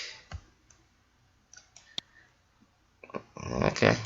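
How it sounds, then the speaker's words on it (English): A computer mouse clicks sharply, with a few scattered single and double clicks near the microphone, followed by a louder burst of handling noise at the end. "Double click this, grab that, double click."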